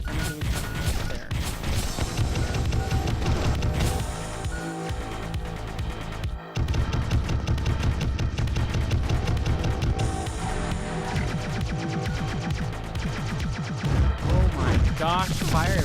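Dense, continuous gunfire and explosive crashes in the NeuroVoider robot shooter game, with spread shots firing nonstop over loud electronic music for about sixteen seconds, the barrage briefly cutting out once midway.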